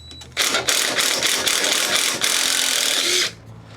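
A 3/8 ratchet loosening the intake bolts on a Briggs & Stratton engine gives a steady, close, continuous rasping buzz for about three seconds, with no talking.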